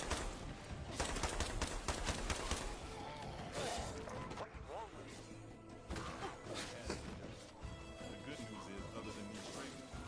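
Video game gunfire in rapid bursts and crashes, loud and dense at the start, then breaking into scattered shots and impacts, with someone talking over it.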